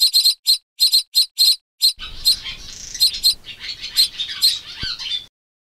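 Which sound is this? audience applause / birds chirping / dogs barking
birds chirping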